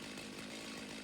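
Chainsaw in the video game Satisfactory: a continuous buzzing engine drone at a steady pitch, quiet and unbroken through the moment, with no talk.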